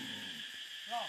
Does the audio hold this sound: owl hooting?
yes